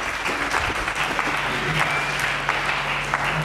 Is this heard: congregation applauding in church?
yes